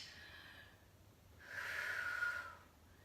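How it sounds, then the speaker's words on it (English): A single deep breath during a yoga session, a soft airy exhale swelling for about a second and then fading, faint and close with a quiet background. "And breathe."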